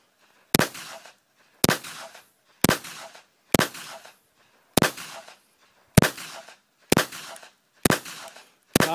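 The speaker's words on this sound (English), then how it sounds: "Show you the muzzle blast on that." Kel-Tec PMR-30 semi-automatic .22 Magnum pistol fired outdoors, nine loud sharp shots spaced about a second apart, each with a short ringing decay, close to the listener.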